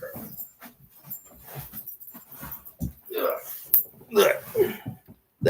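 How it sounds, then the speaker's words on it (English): A pet dog makes a few soft, short whimpers and yips close by while someone talks to her and calls her over. "My dog's right here"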